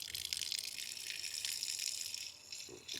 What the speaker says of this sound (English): Let's let a little water out.